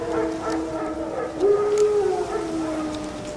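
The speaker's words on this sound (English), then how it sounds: "Wild dogs? Yes. More dangerous than wolves." Wild dogs howl in The Witcher 3 video game: a single drawn-out, wavering howl rises in the middle of the clip over a steady ambient game background.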